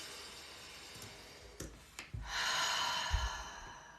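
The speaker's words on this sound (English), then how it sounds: "go ahead and take some really big deep breaths" A person takes big deep breaths, with a sharp inhale followed by a long, airy exhale, close to the microphone, and no talking.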